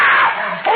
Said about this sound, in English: Those screams.